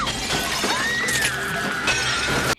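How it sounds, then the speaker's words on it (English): Loud, close glass shattering in the 1998 horror film I Still Know What You Did Last Summer as a character falls through a pane, a sustained crashing burst with tinkling shards that cuts off abruptly. "The amount of times Brandy falls through glass in this movie, insane."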